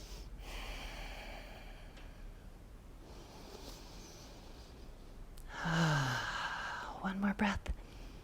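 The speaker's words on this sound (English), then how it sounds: "Just take a couple breaths here." Deep breathing during a side plank stretch, slow audible inhales and exhales close to the microphone, with a few soft voiced sighs and a brief murmur near the end.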